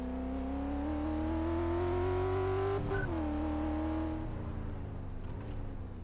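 A muscle car's engine in Car Mechanic Simulator 2014 roars loudly and steadily on a test track, its pitch climbing gradually before dipping and swelling again, with a faint high whine near the end.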